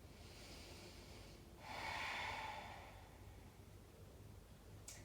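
One long, audible yoga inhale-exhale through the nose during a seated twist, close and breathy, rising and fading over about a second and a half, then quiet with a brief rustle.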